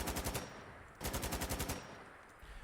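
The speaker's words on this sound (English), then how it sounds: "This is an unsuppressed AK-74" An unsuppressed AK-74 in Fallout 4 fires two loud, rapid automatic bursts of about eight shots each, separated by a brief gap and followed by a fading echo and a short mechanical rattle.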